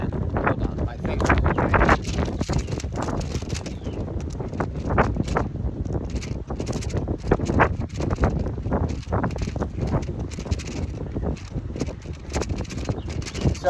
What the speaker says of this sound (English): Still get to listen to the wind